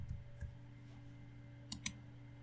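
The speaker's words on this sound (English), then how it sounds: "I'm going to click on the tab." Mouse clicks on a software tab in Blender, small sharp clicks, one early pair and then two close together near the end, quiet over a steady low electrical hum.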